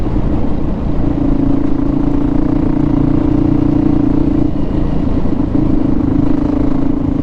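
A Yamaha WR450F dirt bike engine drones steadily while riding, a loud, close, buzzing hum that holds an even pitch throughout with faint mechanical clatter over it.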